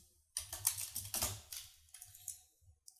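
Close, busy clatter of typing on a computer keyboard while writing a short line of JavaScript, with quick runs of keystrokes and brief pauses between them.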